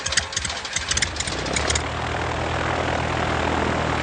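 A small airplane engine drones in flight in a steady, loud, even hum, with a few fluttering pulses at the start before it settles into a constant roar.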